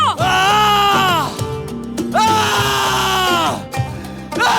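A person screams loudly in long, strained cries, two sustained shrieks broken by short pauses, close and harsh, set against a droning tonal background.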